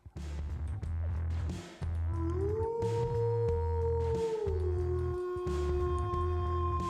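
A drawn-out, wavering howl rises and holds over a pulsing low synth beat in Quake video game music, the eerie cry sliding upward, sustaining, then falling away while the rhythmic bass keeps thumping underneath.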